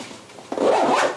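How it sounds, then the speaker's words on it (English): A zipper on a Gura Gear Bataflae 18L camera backpack is pulled closed in one quick, close rasping stroke after a brief quiet rustle. "just zip this back up"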